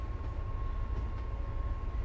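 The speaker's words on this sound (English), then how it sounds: "The train is going." A train in Train Sim World 6 rolls slowly along the Boston to Worcester line, giving a steady low rumble with a faint constant tone above it.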